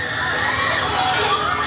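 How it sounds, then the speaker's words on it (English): A crowd screams at a Trump rally after a shooting, a dense continuous wall of shouting and shrieking voices, loud and unbroken throughout. "The screaming crowd looking on in horror"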